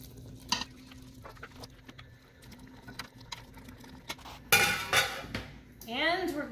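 Beef dropped back into an 8-quart Instant Pot for Indian beef curry, with scattered clinks of a utensil against the metal pot, a loud clatter and scrape near the end, and light sizzling underneath.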